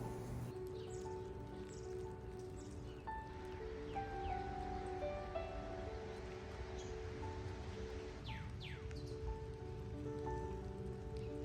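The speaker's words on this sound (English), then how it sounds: "it's very cold and drizzly outside" Cold drizzle patters softly outside in a backyard garden in late March, a faint, steady hiss with scattered drops and occasional bird chirps in the background.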